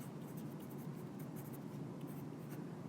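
A pen writing steadily on paper during a homework explanation, a faint, continuous scratching with small strokes and no pauses.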